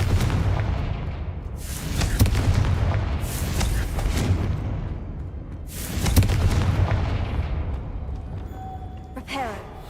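Booming blasts from the Confringo spell in Hogwarts Legacy, several heavy explosive bursts rolling one after another over a low rumble, loud and close, with a brief metallic chiming flourish near the end.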